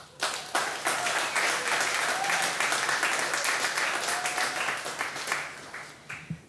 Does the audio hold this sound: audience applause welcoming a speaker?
yes